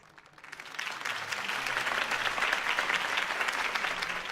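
Video game crowd applause at a political campaign rally swells in and holds steady, a dense wash of clapping and cheering from a large audience.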